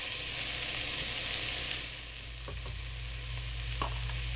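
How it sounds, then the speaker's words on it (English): Onions frying in a pan after meat was cooked, a steady broad sizzle with faint scrapes of stirring, fairly quiet and continuous. "I'm going to add the onions in now."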